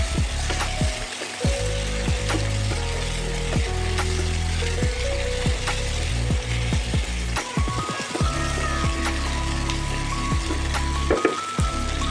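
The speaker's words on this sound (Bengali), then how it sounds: "এক কাপ বাদাম দিয়ে এটাও ভালো করে ভেজে দেব" Steady crackling and sizzling of peanuts and spices frying in a pan with oil, with occasional clinks of a utensil, close up.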